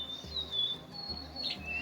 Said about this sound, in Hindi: पहली बार गुनगुनाते हुए परिंदों की आवाज़ सुनी थी।